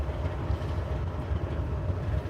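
Loaded coal train rolling along the Chattanooga Sub line at the Old Wauhatchie Pike crossing, a steady deep rumble with faint wheel clatter, close and continuous throughout, no voices.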